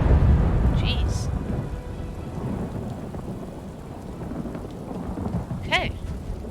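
Rumbling thunder over steady rain in the Elder Scrolls Online High Isle setting, a low roll fading slowly while rain hisses throughout, with faint bird-like chirps on top.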